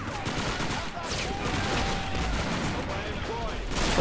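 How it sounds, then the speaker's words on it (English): Dense, steady gunfire and machine-gun bursts in a World War II battle at Stalingrad on the Volga in the game Men of War Assault Squad 2, forming one continuous loud wall of shooting. "Oh, we're getting gunned down."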